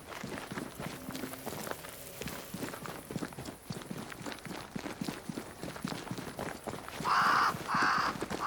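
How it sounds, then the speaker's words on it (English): Crows caw in the Banishers: Ghosts of New Eden game world, two loud close caws near the end over soft footsteps and ambient movement. "Crows. They flock to that great tree up there."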